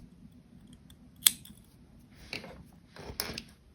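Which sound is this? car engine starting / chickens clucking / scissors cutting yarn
scissors cutting yarn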